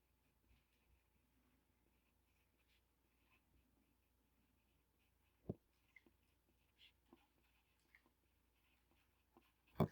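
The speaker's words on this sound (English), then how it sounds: "And I'm writing that down." A pen writes on paper in a math journal, very quiet scratching with a few sharper taps and strokes scattered across a near-silent room, no talking.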